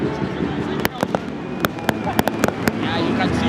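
Fireworks crack at a football match between Vipers SC and Police FC, a scatter of sharp bangs going off irregularly over a loud, busy crowd background with talking.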